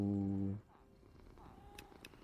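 A Minecraft cat purrs loud and close in a steady rumbling stretch that cuts off abruptly, leaving a quiet background with a couple of faint clicks.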